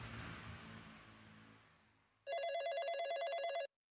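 A telephone rings with an incoming call, one loud electronic trill lasting about a second and a half, after a fading murmur of background room noise.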